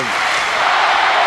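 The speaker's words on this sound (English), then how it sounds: "Crowd alive." Hockey arena crowd at a Rangers versus Thrashers game, a loud, continuous broadband roar of cheering filling the whole clip without pause.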